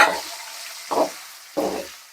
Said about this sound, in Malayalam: ഇത് കൂടി കുറച്ച് ഹൈ ഫ്ലെയിമിൽ വെച്ചിട്ട് ഞാൻ ഫ്രൈ ചെയ്തിട്ട് എടുക്കാം.